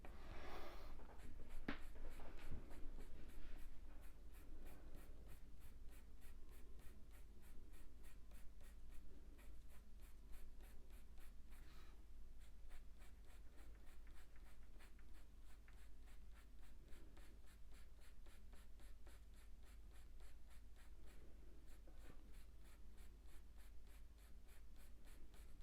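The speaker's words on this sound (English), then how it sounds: "I'm using a bit less pressure with the pencil because I want to put other colours in there." A pencil colours in a duckling drawing on paper with light pressure, making a soft, continuous scratchy scribbling that runs steadily and close throughout, with no talking.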